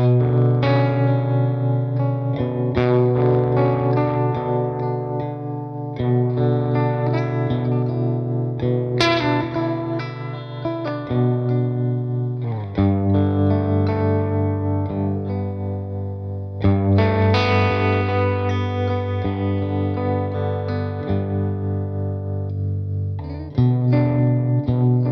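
A Powers Electric guitar played through effects, heavily distorted and chorus-laden chords ringing with reverb and echo in a continuous, loud demo passage with shifting chord changes and no talking.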